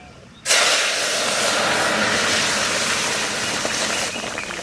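Dal poured into hot oil seasoned with bay leaf and mustard seeds bursts into a loud, steady sizzle that starts abruptly and holds at a constant hiss before easing slightly near the end; no talk over it.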